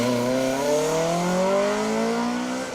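A Ford Puma rally car on a rally stage at the Manx Rally, engine droning loud and close with a steadily rising pitch as it accelerates through the gears, no voices over it.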